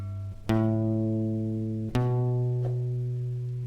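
A guitar plays a single note on the 5th string at the 2nd fret. The note is picked twice, each time ringing out clearly and sustaining close up, with no talking over it.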